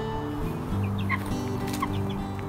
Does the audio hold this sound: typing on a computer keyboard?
no